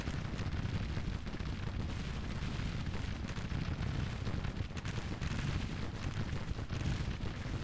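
Dense gunfire rolls continuously through a Grand Tactician video game battle, with overlapping rifle and artillery cracks and booms forming an unbroken, rumbling barrage.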